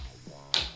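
A latch on a collapsible table snaps open with a single sharp, close click after a faint soft rustle.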